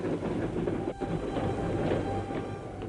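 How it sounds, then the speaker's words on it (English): Troop trains rumble across France in a dense, continuous low roar with faint rhythmic clatter, loud and steady throughout with a brief dip near the start and no talking. "as the troop trains rumbled across France to the decisive point"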